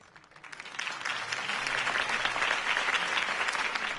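A crowd applauds a campaign speech in a large hall, the clapping swelling quickly and then holding as a steady, dense roar of many hands with no voices over it.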